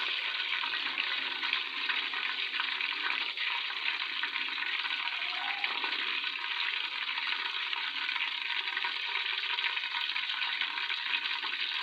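Chopped onions sizzling in hot ghee inside a pressure cooker, a dense, steady frying hiss that stays loud and unbroken throughout.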